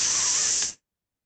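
A water spray bottle fires one short hissing burst, a steady close bright spray that stops abruptly into silence, with no talking.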